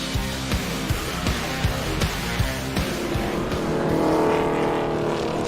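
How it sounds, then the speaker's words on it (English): Stock car engines roar loudly and continuously in turn 3 at Toledo Speedway during an ARCA Menards Series race, with repeated sharp knocks from a multi-car wreck, and the noise swells near the end. "Big wreck in turn number 3 here during the Sioux Chief Power Pex 200"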